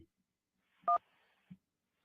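A single telephone dialing tone sounds briefly and clearly in an otherwise quiet line, with a faint soft thump just after, as a guest is called back.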